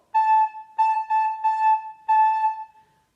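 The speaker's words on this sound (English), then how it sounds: "The third line, I'd like you to use the note A." A recorder sounds the note A four times in a steady one-two-three-four pulse, each tone clear, close and moderately loud, with short gaps between the beats.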